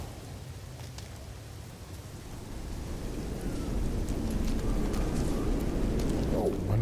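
Steady hiss of heavy rain in a storm in the video game No Man's Sky, slowly swelling louder with low rumbling underneath, constant and enveloping.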